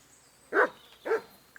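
A dog in the video game Kingdom Come: Deliverance 2 gives two short, fairly close barks about half a second apart over quiet background.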